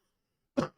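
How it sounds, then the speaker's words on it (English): One short, faint cough sounds after a stretch of near silence, close by and isolated. "that's why I keep coughing"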